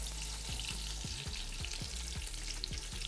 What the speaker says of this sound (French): On fait frire les oignons.